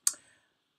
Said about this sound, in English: Sorry for the clicking.